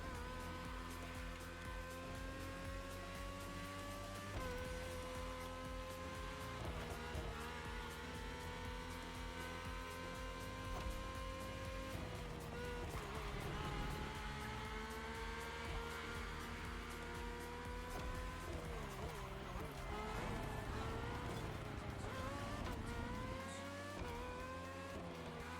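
A race car engine in The Crew Motorfest screams steadily near and loud, its pitch climbing and dropping again and again through gear changes and corners, with no voices over it.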